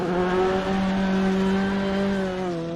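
Rally car on a forest stage of the Kielder Forest Rally, its engine holding a loud, steady high-revving note close by with slight pitch shifts as it drives through, no voices.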